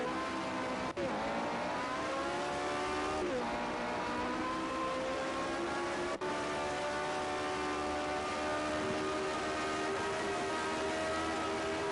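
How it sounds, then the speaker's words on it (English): A historic Formula 1 race car engine revs hard and sustained, its pitch climbing and dipping between gears, loud and continuous over a faint background of crowd or commentary murmur. "God, he's letting that engine cook"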